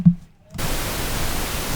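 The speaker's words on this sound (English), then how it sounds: "The next one, pink noise." Pink noise from a synthesizer waveform, a dull thump and near silence followed by a sudden steady wash of broadband hiss that holds evenly to the end.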